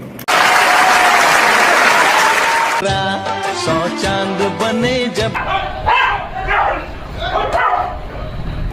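A dog barking in short, loud yaps close by, following a burst of applause-like noise, with talking over and around the barks.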